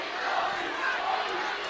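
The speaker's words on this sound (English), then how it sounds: "We're before a capacity crowd tonight." A capacity crowd packs a high school basketball gym, a steady dense roar of many voices murmuring and calling out together, with no single sound standing apart.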